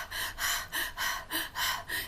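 A storyteller's voice imitates a dragon panting: a steady run of about eight heavy, breathy huffs alternating in and out, close and loud with no words.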